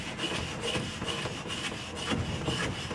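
A piece of wood scraped across casting sand in a metal-casting mould to level it, giving a continuous gritty rasping rub in repeated strokes, close and moderately loud, with no talk.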